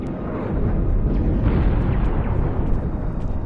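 A force field emitter blows up in the Star Trek Online video game, a loud, sustained roaring explosion that rumbles heavily for several seconds with no voices over it.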